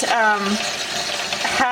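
Pumpkin seeds tipped into a bowl of room-temperature water, giving a brief rushing splash and pour with a voice speaking over it.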